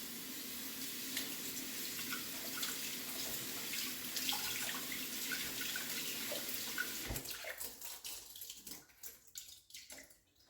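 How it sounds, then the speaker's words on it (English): Running tap water splashes steadily as one cup of rice is rinsed in a colander, a continuous close rushing hiss that thins out and breaks into scattered drips and trickles toward the end. "So I'll do this quick rinse with my 1 cup of rice."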